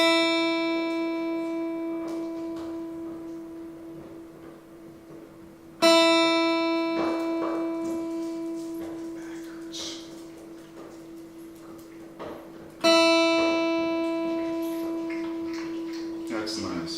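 The high E string of a guitar is plucked three times during tuning, each note ringing out steadily and slowly fading before the next pluck, close and clear with no voices.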